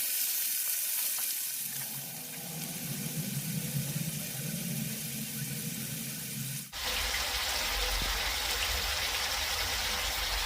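Chicken fries and is stirred in a pan over a high gas flame, giving a steady loud sizzle with an abrupt shift in texture partway through.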